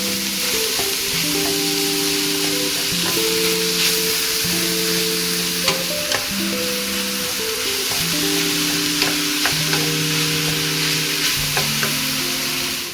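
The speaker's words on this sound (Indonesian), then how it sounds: "Daging cincang kita masukkan. Biarkan kemudian aduk jadi satu ya, sampai kemudian agak mengering atau matang ya." Minced meat sizzles steadily in a pan while being stirred for bolognese sauce, a continuous frying hiss with occasional spoon scrapes.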